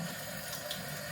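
Water runs into a glass for an iced Americano, a steady close pouring rush for about a second with no one talking.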